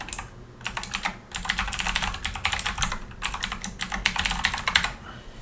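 Someone types login credentials on a computer keyboard in quick, uneven bursts of close, crisp key clicks separated by brief pauses.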